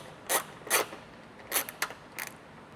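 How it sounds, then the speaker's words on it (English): A 10 mm wrench tightens a nut on a hood strut bracket of a 2024 Land Cruiser, giving five short metallic ratcheting clicks in two spaced pairs and a quick triple, close and fairly crisp over quiet background. "I have a 10 millimeter wrench on the nut, and we're gonna go ahead and tighten this down"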